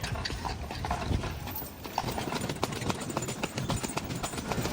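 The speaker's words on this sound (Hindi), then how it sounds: "काफ़ी अरसे के बाद जो है मैंने ये टांगे पे सफ़र किया है" Hooves of a horse pulling a tonga cart near the pyramids in Egypt, a brisk, steady clip-clop close by over rolling wheel and road noise, with no one talking.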